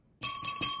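A bright notification bell effect rings out in three quick, evenly spaced metallic dings, crisp and close, with no talking.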